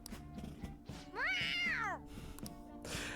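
A single drawn-out cat meow from Persona 5 Royal rises and falls clearly over quiet game background music.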